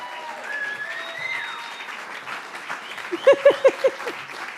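A crowd applauds at a live performance night at The Bedford, starting as a broad clapping wash with a few sharp claps standing out toward the end, while some tonal sounds come through underneath.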